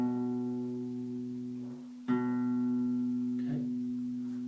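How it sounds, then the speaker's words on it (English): A single guitar note, played on the A string at the second fret, rings out and fades, then is plucked again and sustains steadily; clear, close and alone. "index finger on the 2nd fret on the A string"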